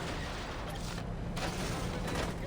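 Gunfire in Saints Row from several shooters at a stronghold, a dense, continuous roar of overlapping shots and noise, steady and fairly subdued, with no clear separate bangs.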